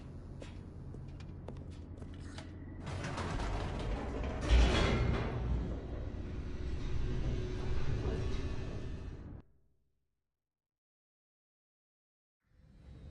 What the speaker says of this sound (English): The elevator raced downward